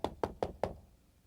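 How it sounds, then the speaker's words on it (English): Four sharp knocks on a door in a quick, slightly uneven rhythm, close and clear, then quiet. "Knock on my door."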